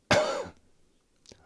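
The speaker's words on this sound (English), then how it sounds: "Like just thinking about me being sick made me cough." A single rough cough with throat clearing from someone still recovering from illness and a scratchy throat, a sharp loud burst fading out, followed by a faint short breath.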